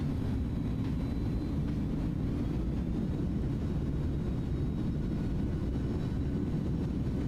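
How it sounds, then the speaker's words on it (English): Airbus A310 on landing rollout in Microsoft Flight Simulator, reverse thrust engaged: a steady, loud broadband jet-engine roar with a heavy low rumble, constant throughout with no voices. "And landing! There we go! Reverse thrust!"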